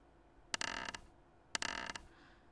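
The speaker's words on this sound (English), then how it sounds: "The floor creaked ominously as the shadow approached me with slow, measured footsteps." Wooden floor creaking ominously in the game Hakuoki, two slow, drawn-out creaks about a second apart, each a rasping groan of boards under weight, close and quiet with no voices.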